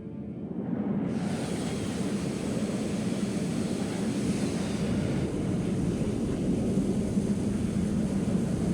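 An F-35 stealth jet in the war game Broken Arrow makes a loud, steady broadband roar that swells in within the first second and holds unbroken, like a continuous close flyby rush.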